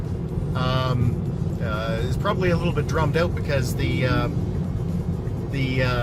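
Steady low rumble of road noise inside a Tesla Model 3 driving near Calgary, a loud continuous drone filling the cabin beneath someone talking throughout.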